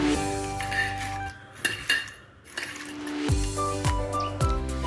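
Prawns tossed with salt and turmeric in a bowl, producing close clinks and knocks of utensils against the bowl, wet squishy sounds and a brief quieter pause in the middle, with no talking.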